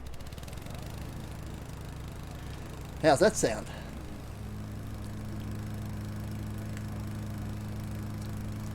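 A lawn mower's steady mid-pitched engine drone runs throughout while mowing a park, with a short burst of speech partway through and the engine note shifting slightly afterward.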